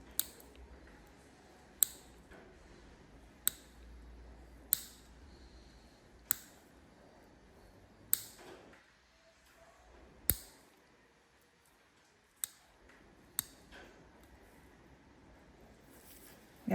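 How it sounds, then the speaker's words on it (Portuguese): Clippers trimming a broken ingrown toenail, a series of sharp, isolated snips spaced a second or two apart, close and crisp against a quiet room with no talk. "Vou só aparar a sua unha"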